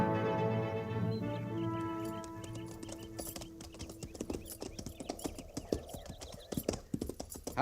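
Horses' hooves clip-clop steadily and close by, the beats getting denser and louder as the horses move, with a low rumbling bed behind them.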